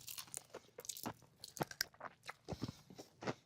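Crunchy bites and chewing on salt and vinegar chicken wings, close up, with several distinct crisp crunches spaced irregularly across the moment and no talking.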